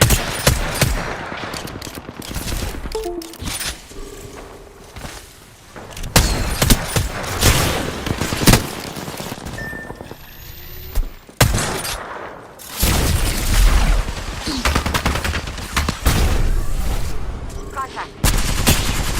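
Rapid gunfire rattles through a competitive Apex Legends match, with repeated automatic bursts, heavy booms and thuds coming loud and close, while players call out to one another in quick, clipped talk.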